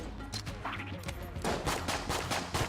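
Bursts of rapid gunfire from the video game Enter the Gungeon, scattered shots early, then a denser run of loud repeated blasts in quick succession.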